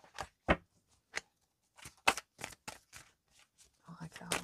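Oracle cards are shuffled by hand in a quiet room, giving a series of short crisp riffling bursts spaced irregularly, several sharp and close. A brief murmur of other sound comes near the end.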